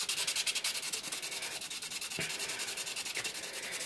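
A Dovo straight razor blade is sanded along its grind in steady, rhythmic back-and-forth strokes, a close, even rasping scrape repeating several times a second without pause.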